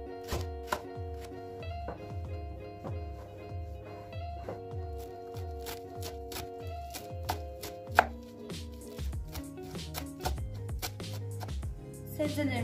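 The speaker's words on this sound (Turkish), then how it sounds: "şimdi pırasayı ve maydanozu doğrayıp tenceremizin içine alacağız" A knife chops leek and parsley rapidly and steadily on a cutting board, close up, in a quick even rhythm that turns more irregular toward the end.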